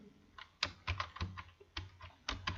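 Values being typed into a table on a computer keyboard, a steady run of close, soft keystroke clicks with uneven spacing and no voice.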